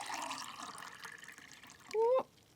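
Water is poured from one drinking glass into another in a short quick stream near the end, preceded by faint room noise.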